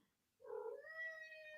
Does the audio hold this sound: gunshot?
no